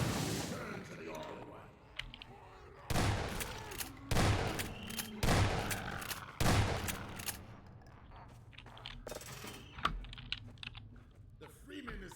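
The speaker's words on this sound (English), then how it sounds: "Shotgun." Shotgun blasts in Half-Life 2: Episode Two: four loud, sharp booms about a second apart, each with a short ringing tail, then softer clatter and shuffling as the weapon is handled, with faint talk in the background.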